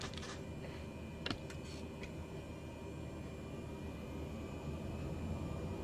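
A small aircraft accelerating down runway 08 for takeoff, its engine a steady broad roar heard from inside the cabin, with a couple of faint clicks early on and no speech.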